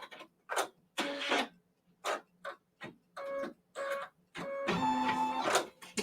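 Quilting embroidery machine stitching out a flying geese block: a loud, close mechanical whirr in short bursts separated by brief pauses, ending in a longer continuous run of stitching.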